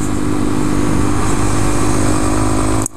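A 2014 Honda Grom motorcycle is ridden on a twisty road, its small engine droning loud and steady with an even buzz throughout before cutting off abruptly at the very end.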